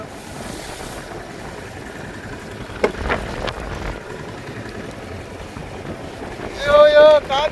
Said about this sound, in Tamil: ஐயோ காத்து ஓவரா அடிக்குதுங்க.